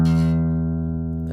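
A single low E string plucked on guitar rings out clearly and sustains, slowly fading over about a second with rich harmonics.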